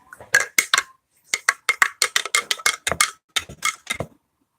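A spoon stirs a mixture in a container in quick, irregular clinks and scrapes, about a dozen close, crisp strokes in short bursts with brief pauses between them.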